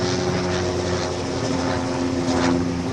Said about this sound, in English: It's a helicopter.